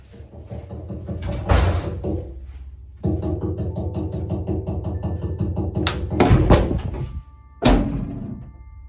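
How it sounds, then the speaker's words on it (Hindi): Knocking and door-like thuds come from inside a toilet in a horror scene, several heavy bangs and rattles separated by short pauses over a dense, reverberant background. "यामा को टॉयलेट के अंदर से नॉक करने की आवाज़ें आने लगी।"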